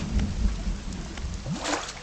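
Thunderstorm in the fishing game Dredge: steady rain hiss with low rolling thunder rumbles throughout, loud and continuous, no voices.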